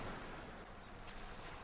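Sea waves washing on a beach in a video game, a steady broadband hiss of calm surf, fairly soft and continuous, with no voices.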